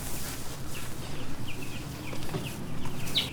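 Chickens on a grass-pasture farm, with brief clucks and chirpy calls scattered over steady outdoor background noise, moderately close but not loud.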